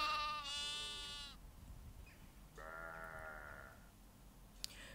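A lost sheep caught in a thicket bleats twice, a long wavering cry followed by a second shorter one after a pause, faint and distant against quiet outdoor background noise.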